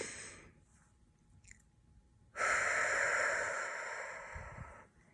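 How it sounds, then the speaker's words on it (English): A slow, deep breath drawn in and let out during a calm guided moment for a mother, starting faint and swelling into a long, steady breathy rush before fading, with no talking over it. "So take a deep breath with me"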